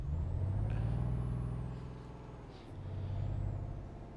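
A truck in Euro Truck Simulator 2 idles with a deep, throbbing engine drone. Its note dips midway, then rises again, and a faint high hiss and whine sit above it.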